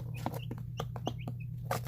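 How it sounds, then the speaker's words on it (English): Chickens cluck softly in a short burst, with quick high peeps mixed among the low clucks against a steady background hum. "So the chickens that you're seeing in Hawaii are not onagadoris."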